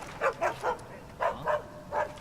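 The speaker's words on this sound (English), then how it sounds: "if you go in the range of a dog, it can bark and it can alert other guards" A dog in Assassin's Creed Chronicles China gives six short, muffled barks in two groups of three, moderately near and alone, with no talk.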